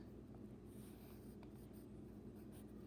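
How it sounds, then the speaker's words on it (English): A pencil writing lightly on paper during an algebra lesson, faint scratchy strokes over a steady low hum. "now I'm going to get my pencil so it looks nice and light"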